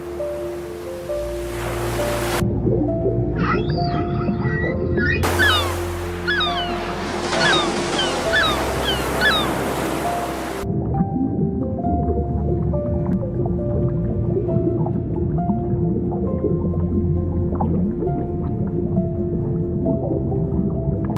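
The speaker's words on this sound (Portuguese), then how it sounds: "Quando ouvimos o canto de uma jubarte, sentimos como se o próprio mar tivesse voz." Humpback whale song underwater in the open ocean, long moaning tones and rising whoops and squeals repeating in phrases, loud and resonant at first and then fading into lower murmurs over a constant watery wash.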